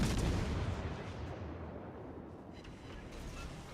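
A battleship's big gun fires in the naval game World of Warships: Legends, a heavy booming blast with a rumbling tail that slowly decays, loud and dense.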